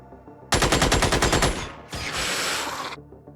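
Two rapid machine-gun bursts from the Xenonauts game, the first a long sharp rattle, the second shorter and denser after a brief pause, both loud and close.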